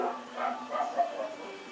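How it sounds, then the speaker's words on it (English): Dogs barking in short muffled bursts indoors, moderately loud and somewhat distant, a couple of yips overlapping. "My dogs are going crazy."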